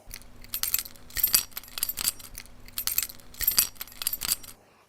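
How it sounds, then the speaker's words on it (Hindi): A bunch of car keys jingling and jangling in several bright metallic bursts, close and fairly quiet, alone with no talking. "ये है चाबियों की आवाज"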